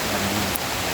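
Steady, dense rain hisses close to the microphone outdoors, a continuous wash of drops with no breaks and no voices.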